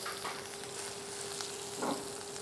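Bitter melon fries in a pan with cumin and garlic, giving a steady, close sizzle with small bursts of crackle and stirring. No voices are heard.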